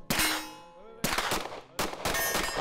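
Three sharp, loud gunshots at a night session of a professional shooting competition, each a hard crack with a ringing metallic tail, spaced about a second apart.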